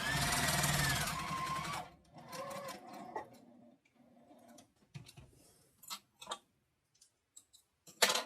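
A sewing machine stitching rows on a quilted zipper-case accent piece runs steadily for about two seconds, then gives way to scattered clicks, short whirs and handling noises, with no speech.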